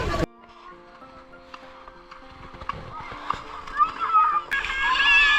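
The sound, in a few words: people bathing and splashing in sea at Mousuni Island beach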